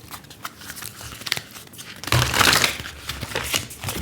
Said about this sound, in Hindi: एक्चुअली ये कार्ड्स बहुत बड़े हैं तो इनको शफल करना थोड़ा डिफ़िकल्ट होता है